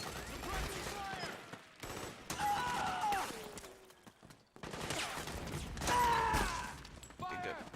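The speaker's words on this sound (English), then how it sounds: "Suppressing fire." Heavy exchange of gunfire in a Metal Gear Solid 4: Guns of the Patriots firefight, bursts of automatic shots filling most of the stretch with a short lull in the middle, under shouted game voices.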